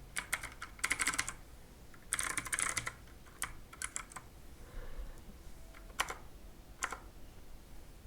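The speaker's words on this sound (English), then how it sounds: "now type here your email and then your password" Computer keyboard typing in quick clustered bursts separated by short pauses, close and clear in a quiet room, as an email and password are entered into an online store signup form.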